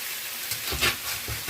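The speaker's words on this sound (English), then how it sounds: "So I'm actually going to go in now and flip the tofu." Tofu sizzling in a frying pan as pieces are flipped, a soft steady hiss with several short scraping pulses and louder crackles as each piece turns over, close and without talk.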